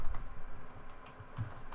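Ruby code being typed on a computer keyboard: a short run of quiet, fairly even key clicks close by, with no voices.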